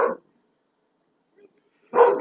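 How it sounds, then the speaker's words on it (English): A dog at a window gives two loud, close barks, one at the start and one near the end, separated by silence. "he's in the window right next to me, literally barking his head off."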